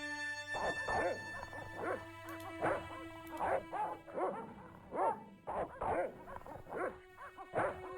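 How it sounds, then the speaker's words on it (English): Dogs bark repeatedly in the adventure video game Broken Sword: The Shadow of the Templars, a run of loud yaps and woofs in uneven bursts over a faint musical drone, with no talk. "maybe if I call the dogs, make them bark"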